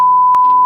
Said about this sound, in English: So get that buzzer ready, Chris